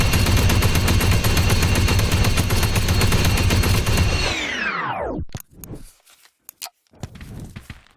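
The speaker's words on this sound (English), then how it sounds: "This is my favourite. Blaster." Modded blaster gun in Blade and Sorcery, a dense rapid stream of buzzing electronic shots that winds down in a falling pitch sweep, followed by a few scattered clicks and thumps.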